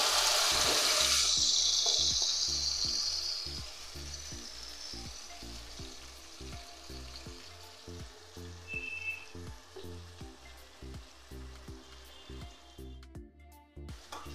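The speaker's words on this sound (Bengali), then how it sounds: "দিয়ে দিচ্ছি মশলা মাখা সয়াবিনটা" Spice-coated soybean chunks land in hot oil with a loud burst of sizzling that fades over a couple of seconds into a quieter, steady frying crackle, with a regular low mechanical pulsing running underneath.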